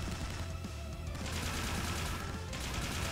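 Gunfire in Trails into Reverie, sustained rapid bursts like a volley of shots over a busy battle soundscape, loud and continuous.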